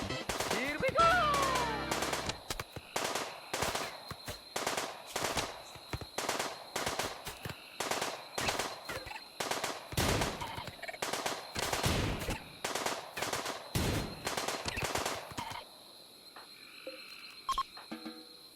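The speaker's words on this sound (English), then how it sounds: "the colonists form a firing line and blast the shelled intruder back into the world of Mario Kart" Colonists' gunfire aimed at a shelled intruder in Rimworld, a rapid stream of sharp shots in bursts for about fifteen seconds, fairly steady and moderately loud, then stopping.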